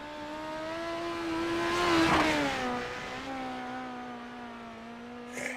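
Midget race car number 66 on the Fairbury dirt oval, its engine howling at steady high revs, climbing and dipping in pitch through a turn before holding again, loud and close with no talk.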